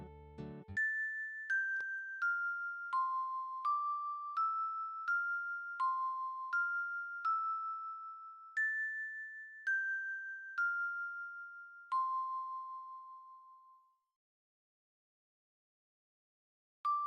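A bell chimes a slow melody in the Quest for Glory video game, about a dozen clear, ringing notes stepping down and up in pitch, each fading before the next, then silence and one final strike.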